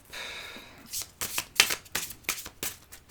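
A deck of card-reading cards is shuffled by hand: a rapid run of crisp, close riffling bursts in quick succession.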